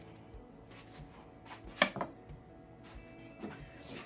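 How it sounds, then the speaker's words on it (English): A knife slices food on a cutting board, a few soft, scattered cuts with one sharper knock near the middle, quiet and close with light room noise. "Now we're going to do some slicing."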